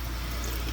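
RV holding tank treatment liquid pours into a bottle cap with a faint, steady trickling gurgle, close and brief.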